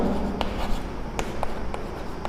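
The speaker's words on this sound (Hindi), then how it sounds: "तो यहां पर लिख सकते हैं रितु" Marker or chalk strokes on a board while a math solution is written out, a series of short scratchy taps and scrapes at close range with no talking.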